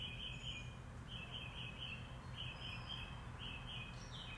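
Birds chirping outdoors in nature, faint repeated high tweets over a steady low rumble of background noise, no voices.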